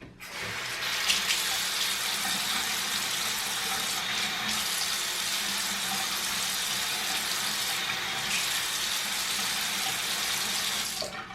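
A tap runs steadily into a sink while a person wets their hair, a continuous close splashing stream of water with brief changes in the flow, no talking.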